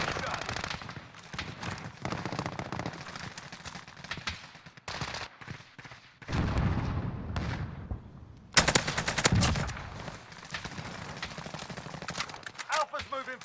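Rapid bursts of automatic gunfire crackle through a PC first-person shooter battle, dense volleys and single shots, close and loud, with gaps, mixed with a voice talking over the action.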